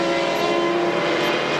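A race car at Watkins Glen during the 2001 6 Hours endurance race, a steady high-pitched engine drone held at constant loudness for under two seconds, with no talk over it.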